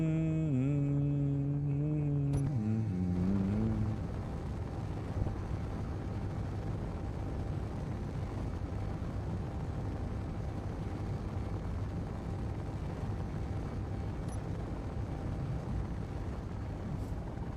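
Rocket engine thrust in a video game, a tonal hum that bends and steps down over the first few seconds, then settles into a steady, loud, broadband roar that runs on without a break.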